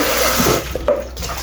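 Tap water runs into a kitchen sink while food is washed, a steady close splashing rush with small shifts as the flow is disturbed.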